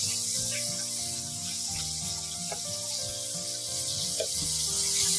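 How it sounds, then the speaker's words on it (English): Red chili frying in hot oil as a condiment for salt and pepper tofu gives a steady, close sizzling hiss, continuous throughout, over a low tonal hum. "I'm also fried some red chili"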